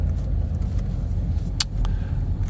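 A car rolls slowly into a parking space with a steady low engine rumble close by, brief faint clicks or creaks rising over the drone near the middle.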